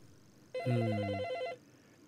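A single burst of trilling telephone ring, about one second long, close and clear over a quiet room hiss.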